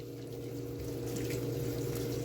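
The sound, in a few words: low-pressure water rinsing a K&N air filter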